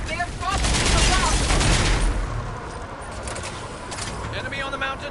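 Bursts of rapid gunfire from a mounted gun and weapons in a firefight in Mass Effect 3, with a dense loud volley at first, then lighter shots and clatter, mixed with game voices talking.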